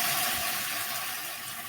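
Water is added to a cooking pot of Portuguese green peas, producing a steady close hiss and gush of liquid pouring for the whole moment without pause.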